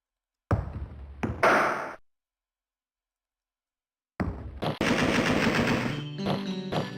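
Gunfire in Alone in the Dark 2, short bursts of rapid shots that cut off into silence, then a dense loud stretch of firing with clattering impacts.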